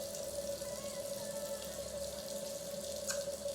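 Running tap water at a bathroom sink while someone washes their face with warm water: a steady close hiss of flowing water with a faint tonal hum underneath, constant throughout, with one small splash near the end.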